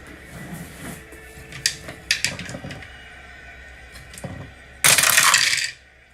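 Dice rattling across a tabletop during a Strat-O-Matic baseball game, several soft clicks and tumbles followed by a louder, dense rolling clatter near the end, close up with no talk.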